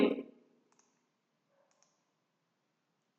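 A computer mouse clicking while working in MS Word: one sharp, close click followed by a few faint, scattered ticks in near silence.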